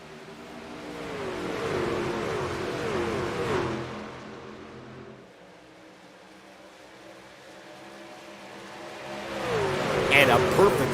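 Race trucks accelerate on a restart at Chicagoland in a racing video game, engines swelling in a loud buzzing rush, then fading to a quieter hum before surging again near the end.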